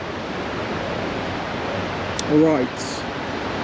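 A river flows beneath the bridges of Sarajevo, a steady broadband rush of water in the background while someone briefly speaks over it.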